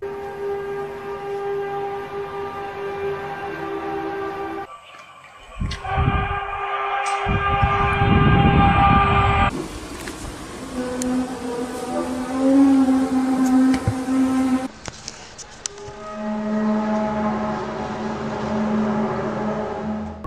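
Eerie, mysterious trumpet-like sky sounds: loud, sustained metallic blaring tones in shifting layers, with rumbling noisy stretches in between, echoing and drawn out.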